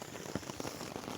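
Rain pattering on a tent during a hike in the Queyras mountains, a dense close hiss broken by sharper drop impacts, steady and fairly loud with no talking.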